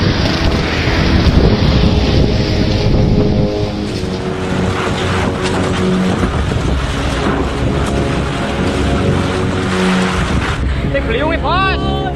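Tornado winds tearing through Situbondo, a loud, constant roar of wind buffeting the microphone, with people shouting and talking amid the gusts.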